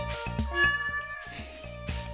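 A cat in Stardew Valley gives a few short game-sound meows, repeated at a steady pace over light background music on a farm.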